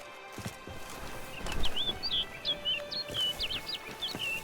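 Bird chirps from The Witcher 3: Blood and Wine, a string of short, bright tweets repeating over a soft outdoor ambience with faint hoofbeat-like thuds and movement underneath.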